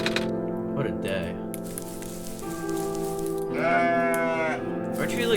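A ram bleats in the video game OneShot, rising harmonic calls repeating over a looping in-game music bed, with a louder drawn-out bleat near the end; a voice talks at times alongside it.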